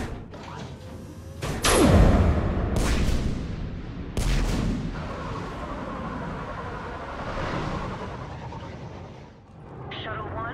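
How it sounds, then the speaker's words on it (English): Heavy guns boom in the Mass Effect 3 video game, a few deep thumping blasts followed by rumbling battle noise, with people talking over the action. "Have the guns punch a hole in the perimeter, then launch Shuttle 1."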